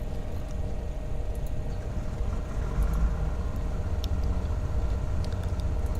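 The left engine of a Baron 58 twin piston aircraft in Flight Simulator X turns over and settles into a steady, loud drone with a low rumble that swells slightly partway through.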